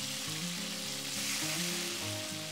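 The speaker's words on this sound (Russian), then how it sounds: "Мясо обжариваем с двух сторон до красивой румяной корочки." Two chicken fillets fry in vegetable oil in a pan, browning on both sides, giving a continuous close, bright sizzle with a steady tonal backdrop underneath.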